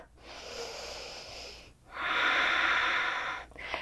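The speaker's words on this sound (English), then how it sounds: "Last breath." Two long, deep breaths sound close to the mic during prenatal yoga, a breathy airy inhale followed by a louder, drawn-out exhale, ending with a short sniff.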